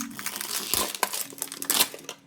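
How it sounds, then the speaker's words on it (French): Crinkling and tearing of plastic wrapping as a Pokémon card mini tin is opened, a run of close, dry crackles and rips with a few sharper bursts, alone. "Je vais ouvrir la deuxième Minitine."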